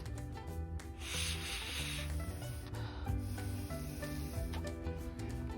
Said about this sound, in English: with our straw, we're going to blow